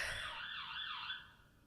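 An emergency siren wails outside, its rising and falling tone wavering for about a second before fading into the distance, with no voices present.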